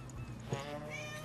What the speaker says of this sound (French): Je crois qu'il y a votre chat qui est dehors aussi.